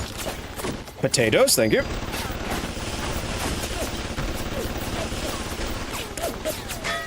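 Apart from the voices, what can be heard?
gunfire in BioShock, from a video game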